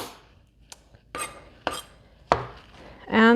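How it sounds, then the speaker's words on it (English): Big, rough knife chops through vegetables on a cutting board for sloppy joe filling, a few sharp separate thuds spaced apart, close, ending with a louder clatter of kitchenware. "So I'm gonna chop up a couple of these."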